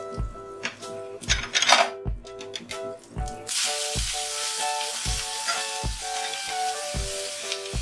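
Chopped tomato drops into a pan of fried spice tempering for a tomato chutney, setting off a loud, close, continuous sizzle that fills the second half after some clinking of utensils.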